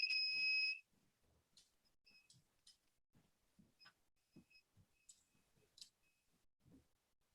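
A digital multimeter sounds its continuity beep, a steady, loud electronic tone that holds for nearly a second at the start, followed by soft clicks and faint handling noises.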